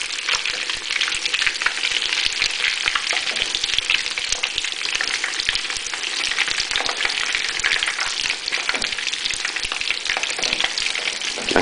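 Spanish torrijas, bread slices in the style of French toast, fry in a pan on high heat, giving a dense, continuous crackling sizzle that is steady and close throughout, with no voices.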